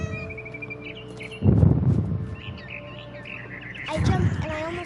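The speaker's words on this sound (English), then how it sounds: "Where'd that bird go? There it is." A bird in What Remains of Edith Finch chirps and tweets in quick, bright bursts close by, layered over ambient game sounds and rustling movement, with louder footstep-like thumps partway through.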